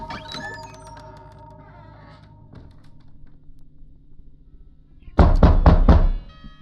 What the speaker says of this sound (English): Okay, we got knock knock knock.